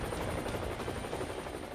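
A military helicopter such as an Apache or Chinook roars with a dense, continuous rotor and engine wash, loud and close, with a faint thudding pulse and a thin high whine running through it.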